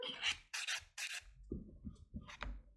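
Natural fingernail buffed with a white buffer block after gel polish removal, short close raspy rubbing strokes in quick bursts followed by a few softer scrapes, quiet and without talk.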